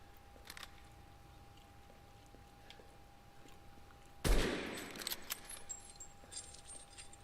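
Video game gunfire: after a quiet stretch with faint clicks, a single loud, sudden blast is followed by a decaying tail and scattered sharp clatters.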